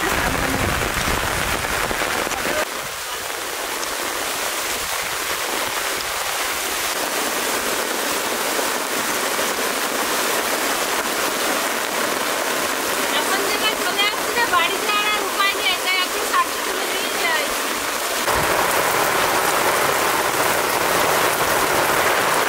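Steady heavy rain pours down outdoors while greens are being picked, a loud continuous hiss of drops on surfaces throughout, with louder spattering toward the end and no voices.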